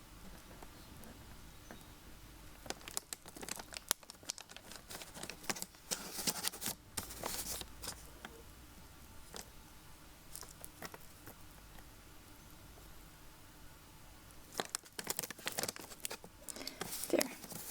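A blade cutting through a polymer clay waffle, heard as close, soft crisp taps and scraping crackles in irregular bursts, quiet and intimate with no talking.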